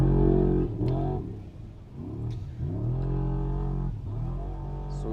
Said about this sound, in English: So we watch another car leaving the line now.